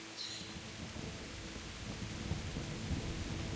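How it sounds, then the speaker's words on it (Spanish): Thunder rumbles in a video game set in a medieval world, Kingdom Come Deliverance: a steady, distant low roll blended with rain noise, faint and continuous with no voices. "Podría mejorar un poco los truenos a lo mejor"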